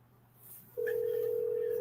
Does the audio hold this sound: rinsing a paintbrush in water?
no